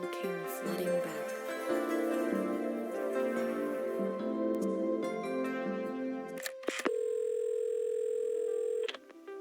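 A telephone dial tone in a video game plays as a steady, loud electronic hum for several seconds near the end, after a stretch of layered game music and a couple of sharp clicks.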